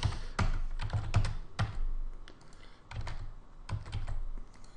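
Computer keyboard typing as junk test data is entered into a website contact form, close keystrokes arriving in quick bursts with brief pauses between them, no voices.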